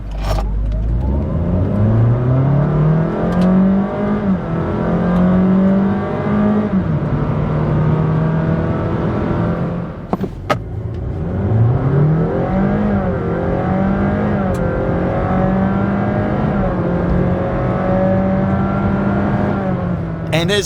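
Two Honda hybrids, a Fit and a Jazz, launch hard from a standstill, engines rising steadily in pitch through long accelerating sweeps, loud and close, with a brief break midway before a second run builds again.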